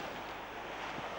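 Sea waves wash in and out in a steady broadband rush, with wind buffeting the microphone and no distinct breaks standing out.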